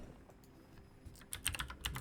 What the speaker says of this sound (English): my typing is going to be really loud because my mic is just sitting next to my keyboard right now